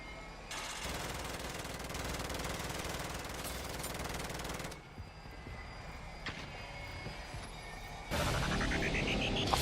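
Sentry gun firing in Modern Warfare Zombies, a rapid rattling burst of automatic fire lasting several seconds, then quieter game sounds with scattered clicks before a louder swell of noise at the end.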